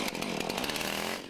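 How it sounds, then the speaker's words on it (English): A chainsaw whines loudly and steadily at close range, cutting through wood without pause before easing off at the very end. "he bears the lasting pain along with his chainsaw"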